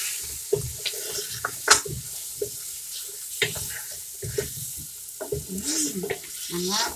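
Spices sizzle in a pan as they are stirred, with scraping stirs and crackling frying sounds, moderately close, no talk.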